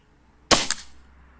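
One sharp airsoft shot fires a pellet into a block of ballistic beef gel, a loud close crack with a quick second snap just after, then quiet.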